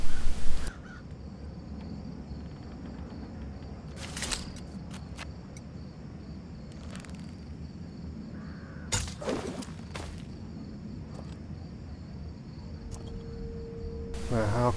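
Crows cawing in the Stonemarket district of the video game Thief: several short, harsh calls at scattered moments, moderately close, over a steady bed of crickets and low ambient hum, with no voices.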